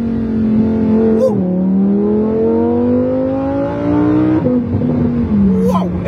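A fully modified car's engine revs up and down, with the long drone of its pitch rising and falling near and loud. Short sharp crackles that could be exhaust pops break in at two or three points.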